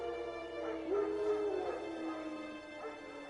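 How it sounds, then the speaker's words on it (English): Wild dogs in the Witcher video game, close, high-pitched yelping barks and drawn-out whimpers and whines rising and falling over a quiet ambient game background. "No. Wild dogs."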